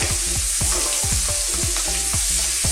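Shrimp frying for Filipino sizzling gambas, a steady close, loud sizzle and crackle running throughout with rhythmic scraping knocks of stirring in the pan.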